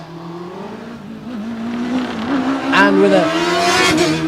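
A race car climbs the Loton Park hillclimb, its engine note rising as it accelerates hard and loud, with a commentator talking over the run.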